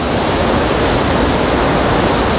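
Floodwater roars at Wawa Dam after a typhoon, a loud, steady, unbroken rush of turbulent water close by with no voices.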